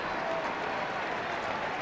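A steady roar of crowd cheering and applause at a 2012 Leinster hurling semi-final between Kilkenny and Dublin, sustained and loud, filling the stadium as a player leaves the field.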